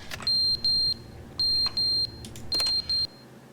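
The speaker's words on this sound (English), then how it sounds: "What's the fire alarm going on?" Fire alarm in The Stanley Parable video game sounding in three pairs of sharp, high electronic beeps, each pair about half a second apart, loud and clear over a low background hum.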